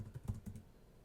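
Rapid keystrokes on a computer keyboard entering a COUNTIFS formula in an Excel spreadsheet, a quick cluster of close, light clicks and taps over about a second with no talking.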